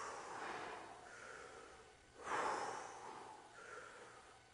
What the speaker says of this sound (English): deep breathe